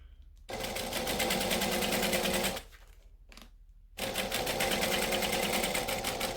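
Sewing machine stitching a fabric seam in rapid, steady bursts, running for about two seconds, pausing briefly, then stitching on again, close and loud with no talking.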